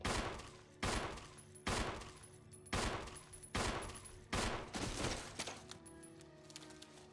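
Gunfire in Resident Evil, about seven heavy, evenly spaced shots with sharp attacks and short decaying tails, loud and close, ringing out alone without talk.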